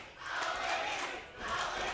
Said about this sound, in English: You can hear this World League crowd getting behind Elaney, trying to wake her up